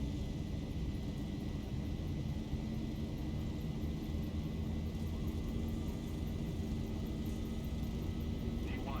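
Airliner jet engines spooled up to takeoff thrust in the X-Plane 11 flight simulator, a steady, loud broadband roar with a low rumble that holds constant throughout.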